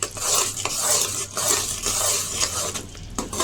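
A spoon stirs cardamom powder through thick jaggery syrup in a pan on low flame, making a steady close scraping and clinking against the metal with a soft sizzle underneath and no voices.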